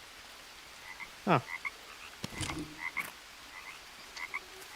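A frog croaks in the jungle survival game Green Hell VR, a few short throaty rasps standing out near and clear over a quiet ambient forest bed, with one brief exclamation from a person.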